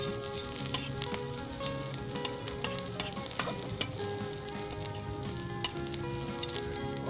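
Cumin seeds and browned onions fry in a little oil while a spoon stirs them, a steady close sizzle broken by sharp scrapes and clicks of metal against the pan, with no voices.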